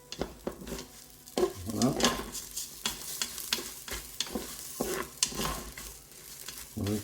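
Rice grains stirred and toasted in a Cookeo multicooker pot: soft, irregular scraping strokes over a low sizzle, fairly quiet and close, with one brief spoken word near the start.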